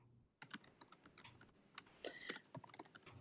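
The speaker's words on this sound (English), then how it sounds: "I'm typing to Athena real quick" Quick typing on a computer keyboard, a burst of close, crisp key clicks in uneven rhythm after a brief quiet start, faint and without talk.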